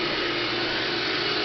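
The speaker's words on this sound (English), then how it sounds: "the idea of a robotic vacuum is to just set it and forget it" Bob robotic vacuum cleaner running, a loud, steady motor whir with constant broadband suction noise, close and continuous with no voices.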